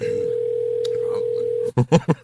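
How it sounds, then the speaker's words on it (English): A steady telephone ringback tone hums while a call waits to connect, then breaks off into a few short bursts of louder sound. "I'm just gonna keep calling you, little ass, till you fucking answer."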